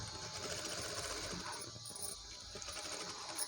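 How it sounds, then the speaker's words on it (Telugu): A sewing machine stitches a baby blouse with a steady, fast mechanical whirr that continues evenly at moderate volume, with no talking. "ఇలా టర్నింగ్స్ దగ్గర కొంచెం స్లోగా తిప్పుకుంటూ డిజైన్ షేప్ అవుట్ కాకుండా స్టిచ్ చేసేసుకోవాలండి"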